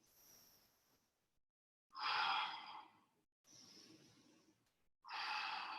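Deep breathing during an exercise session: a faint breath, then three loud, airy exhalations close to the listener, each lasting about a second and separated by short silent pauses, with no talk.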